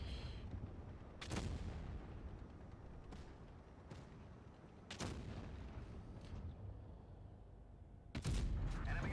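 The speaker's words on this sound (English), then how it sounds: "I finally get to shoot a shell." A tank destroyer firing shells in a tank video game, several sharp booming shots spaced a few seconds apart over a steady engine-like rumble, the last one loudest.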